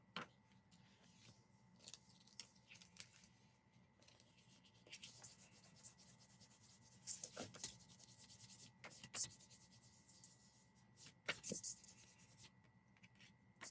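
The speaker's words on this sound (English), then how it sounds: "so I'm just kind of rubbing off the excess adhesive there" Soft, scratchy rubbing of a fingertip or eraser against a journal page, clearing excess repositionable adhesive: faint intermittent strokes in short clusters, quiet and close with long pauses between.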